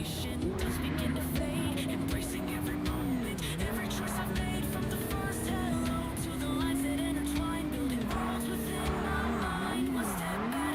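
Cars from ambient traffic in MindsEye drive past, with steady engine drone, shifting revs and occasional tire squeal, fairly close and continuous.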